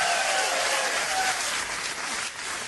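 An audience at a stand-up comedy show applauds comedian Hatházi László, a loud, sustained wash of clapping from a full crowd that thins slightly toward the end.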